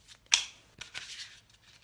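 A single card pulled from an oracle card deck: one sharp, close papery snap, then a few softer rustles and slides as the card comes free, with no talking.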